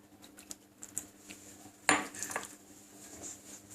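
Spoon clinking and scraping in a bowl as dough ingredients are stirred together with milk, light scattered taps and one sharper clink, close and fairly quiet.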